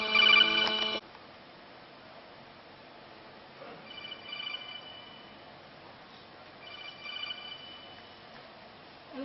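A telephone rings with an incoming call in three separate bursts: a loud first ring, then two fainter rings after long gaps, with no talk.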